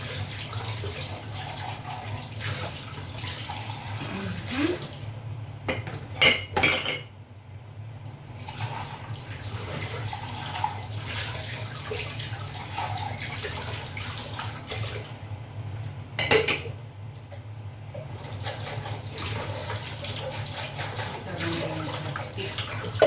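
Tap water runs steadily while dishes are washed in a kitchen sink, with a continuous splashing hiss and a few brief clinks and breaks in the flow across the stretch.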